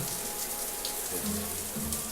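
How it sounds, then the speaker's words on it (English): Shower running in South Park: The Stick of Truth, a faint steady hiss of falling water with a few soft tonal blips in the game audio and no talking. "You can go in here and turn on the shower"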